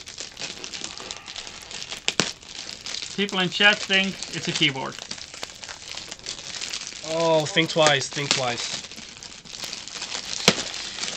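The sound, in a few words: opening a wrapped present, paper crinkling and tearing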